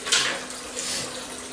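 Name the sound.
hot water running from tap into sink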